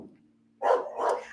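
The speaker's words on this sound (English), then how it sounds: "Can y'all hear her barking?" Dog barking: two quick close barks in succession after a moment of near silence, loud and sharp against a faint background hum.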